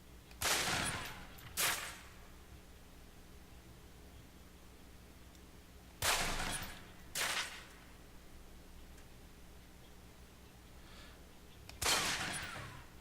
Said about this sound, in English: Equip the pistol, then aim down range and take some shots at the target.